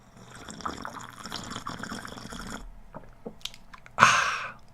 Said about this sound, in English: That's for all the people that get irritated by supping and slurping.